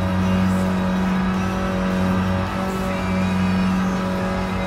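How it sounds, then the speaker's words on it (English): A first-generation Mini Cooper's small engine in Gran Turismo Sport racing, a loud steady buzzing drone held at high revs throughout with only slight dips in pitch. "Let's give that Mini Cooper a little bit of overtake pace"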